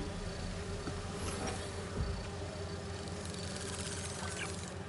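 Bees buzzing in the Spider-Man 2 video game, a dense, steady insect drone filling the scene at constant loudness with no talking over it.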